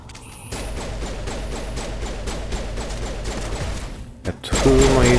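Sustained rapid gunfire in a science fiction RPG battle, a dense, loud, continuous clatter of shots that runs for several seconds, drops out briefly, then resumes louder.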